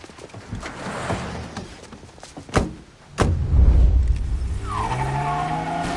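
A car in the Mafia Definitive Edition video game pulls away with a loud engine rev and tire screech, joined by sharp gunshot-like cracks and a rising motor roar.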